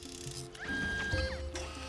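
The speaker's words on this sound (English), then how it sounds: "It's a big table. It's a 3D printer." A 3D printer called the ASSP deploying in Elroy and the Aliens: mechanical whirring and ratcheting clicks with a rising tone, steady and close, with no voices.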